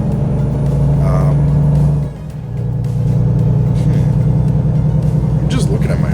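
Volvo semi-truck engine in American Truck Simulator redlining, a loud steady low rumble with a brief dip in the middle before the engine drone resumes at high revs, with background voice.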